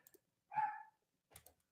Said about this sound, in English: Do you hear the dog in the background?